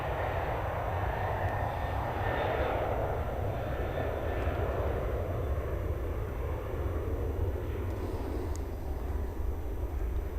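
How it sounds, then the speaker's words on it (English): A Singapore Airlines airliner on short final to runway 27 at Melbourne Airport, heard as a steady, fairly faint distant engine roar with a low rumble that holds evenly throughout. "we've got an aircraft on short final. Runway 27."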